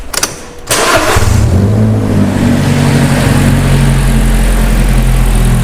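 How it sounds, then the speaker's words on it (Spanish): A car engine cranks briefly, catches, and settles into a loud, steady idle close by after a vehicle check for a suspected faulty ignition coil; no one speaks. "Vamos nuevamente a poner en marcha el vehículo."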